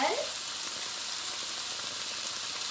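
A fajita mixture with Paleo seasoning sizzles steadily in a hot pan on medium heat. A brief clatter of tossing opens, then a dense, even frying hiss continues alone.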